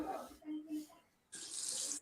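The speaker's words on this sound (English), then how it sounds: "Putting some water on my face." Tap water splashes into a sink for a face wash, a steady hiss of about two-thirds of a second that follows a few faint noises and ends abruptly.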